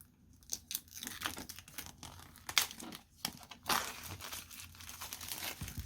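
Protective film being peeled from a new Razer Phone 2 during unboxing, a close, crackly crinkling with sharp tearing bursts and light plastic rustles, fairly quiet and with no talking.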